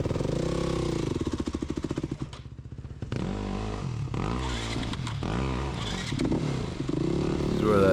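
A dirt bike engine on a hard enduro trail, revving and sputtering in uneven bursts with a brief dip to near idle, then climbing again while the bike is walked along. Voices are faintly mixed in.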